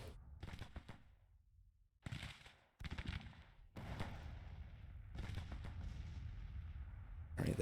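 Civil War troops fire rifle volleys in the Grand Tactician strategy game, heard as faint, crackling bursts of distant gunfire broken by short silent gaps.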